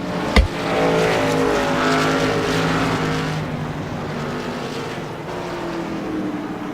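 Racing pickup trucks in a Truck Series round at Ohio slide through the esses, engines roaring loudly with long tire squeals and a sharp thump near the start, the pack sound fading slightly toward the end.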